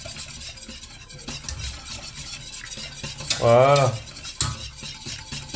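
A spoon scrapes around the sides of a pan as a béchamel-style sauce thickens for ham-wrapped endives, a continuous close stirring scrape with a soft sizzle, briefly interrupted by a short spoken word.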